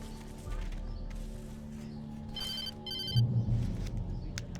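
In the video game Alan Wake, a telephone rings inside a sheriff's station with short bursts of bell trills over a low room hum, moderately loud and nearby.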